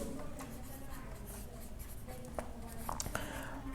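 A pen scratches as an accounting equation for opening capital is written out: faint, continuous strokes with a few sharper taps, under quiet murmured speech.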